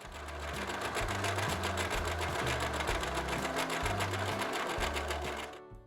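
A sewing machine stitches a straight seam through fabric at a fast, steady pace, its rapid needle clatter loud and close throughout, then stopping abruptly at the end.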